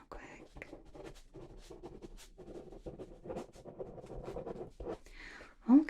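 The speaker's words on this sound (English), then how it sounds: "Let's write that down real quick." Soft pen scratching on paper in close, quiet strokes during a whispered medical exam roleplay, with gentle murmured speech running over the writing.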